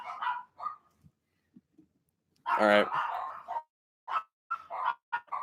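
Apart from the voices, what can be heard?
dogs barking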